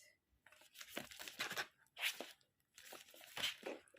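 A parcel envelope is closed by hand, with several bursts of crinkling and tearing of paper and packaging, sounding close and moderately soft, separated by brief pauses.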